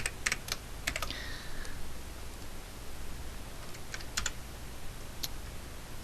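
Quick clusters of computer keyboard keystrokes, a few short taps near the start and more near the end, close and crisp over a quiet hiss.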